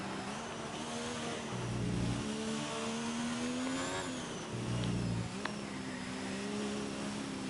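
Race car engine in a British Grand Prix sim racing game, droning steadily at high revs with pitch rising and falling through gear changes, two brief lower-pitched dips, loud and continuous throughout.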